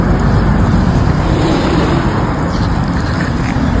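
Steady, loud road traffic on a busy roadway in a Philippine city, with cars and heavier vehicles droning continuously and close by, no clear single pass standing out and no talk.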